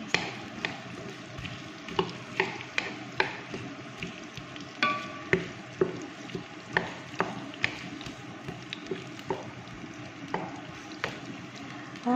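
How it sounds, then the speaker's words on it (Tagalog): Onion frying in a pan while a utensil stirs it, with regular scraping strokes over a steady low sizzle, close up and without talk. "Haluin lang natin ng kaunti"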